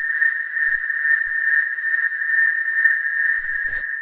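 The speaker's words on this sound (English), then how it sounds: "The first sound we have here is this alien churn" FM synth patch called an alien churn, built with operators for hard techno, holding a single sustained G sharp note: a steady, bright, buzzing metallic tone with stacked overtones that plays alone and cuts off just before the end.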